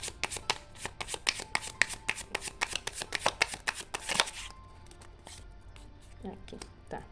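Tarot cards are shuffled by hand in a rapid run of crisp riffling flicks for about four seconds, close and loud, followed by quieter handling and a few soft taps, with a voice speaking over it.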